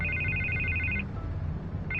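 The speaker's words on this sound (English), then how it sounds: "I can't get the phone to stop ringing" A phone rings in a Batman video game, an electronic trill repeating steadily for about a second, pausing, then starting again, over a low game soundscape with no talk.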